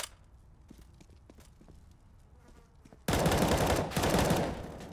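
Bursts of rapid automatic gunfire in a competitive tactical shooter esports semifinal match, quiet scattered shots at first, then a sudden loud, dense barrage that fills the second half.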